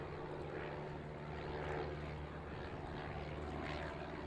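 Propeller tow aircraft engine hauling historic gliders aloft, a steady droning roar held throughout at moderate distance with no breaks, muffled and even in level, alone without talk.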